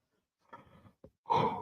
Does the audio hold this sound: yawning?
yes